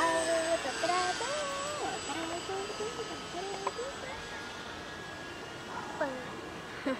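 Floatplane coming in on a long landing at Brandýs nad Labem on the Elbe, a steady engine and propeller drone heard from inside under voices and radio-like chatter.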